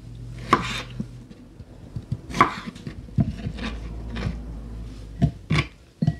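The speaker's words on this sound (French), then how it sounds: "On va venir donc le couper en petits morceaux" A knife chops cucumber into small pieces on a board, with a run of sharp, separate close taps at an irregular pace.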